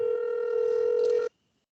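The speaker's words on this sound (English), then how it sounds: "I hear a phone calling right now" A single steady telephone tone rings out for over a second, then cuts off abruptly into silence, heard clearly with no voices over it.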